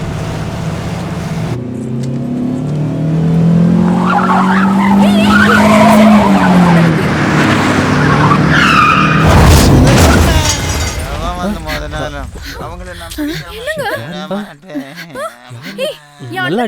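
A car skids and crashes after a drunk driver loses control, a long loud tyre screech building into a heavy impact, followed by voices talking excitedly close by.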